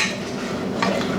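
A spoon scrapes and swirls through a milk paste mixture in a pot, a soft continuous stirring with a brighter clink of metal near the end, close and alone.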